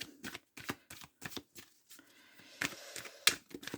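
Tarot cards being shuffled for a nine-card spread, a quiet run of crisp riffling bursts in an irregular rhythm with short pauses between, close and alone without talk.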